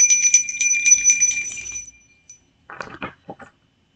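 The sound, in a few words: bell being rung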